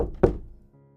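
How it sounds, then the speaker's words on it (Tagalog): A single dull knock thuds on a door, close and short, followed by a brief faint tonal hum. "Katok sa pintuan ang nagbalik sa kanya sa kasalukuyan."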